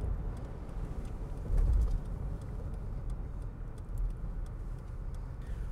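A car rolls up to a roadside gem and mineral shop, its steady low engine and tyre rumble moderately close, with a brief swell partway through and no talking.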